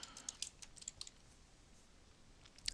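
Quiet typing on a computer keyboard, a burst of light key clicks at the start, a pause of soft background hiss, then a few more taps near the end.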